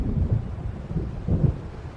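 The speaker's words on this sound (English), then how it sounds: "It seems there's a storm coming." Low thunder rumbles through a stormy scene in the video game Alan Wake Remastered, a steady deep roll with swelling peaks and faint rain, no voices.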